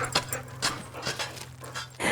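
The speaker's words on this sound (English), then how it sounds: "These are the mean Jack London Huskies, you know, that kill people." Huskies, sled dogs of Iditarod lineage, pant in quick breathy bursts close by, with a brief whimper and a jingle like tags or keys near the start and end.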